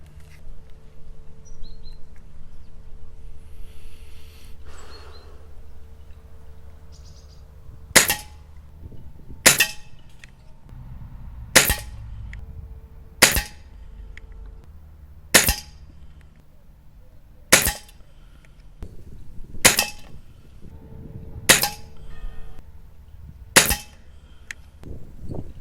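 Ten sharp air rifle pellet shots fired at a 15 m target, evenly spaced about two seconds apart, each a crisp snap with a faint metallic ring, over quiet outdoor background with distant birdsong.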